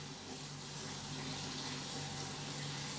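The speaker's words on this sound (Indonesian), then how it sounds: "Air dari kran." Tap water running steadily from a faucet, used to soak potatoes, a close, full rushing stream with an even level and no talk.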